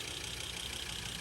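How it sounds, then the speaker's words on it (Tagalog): A NordicTrack S50 treadmill motor, a unit with a ring-of-death fault, runs with a steady, even whirring hum that holds at a constant level for the whole moment. "Start na yung motor, yan."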